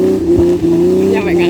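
Engine of an off-road car on a fun off-road outing revving under throttle, a loud continuous growl held close, with voices talking over it.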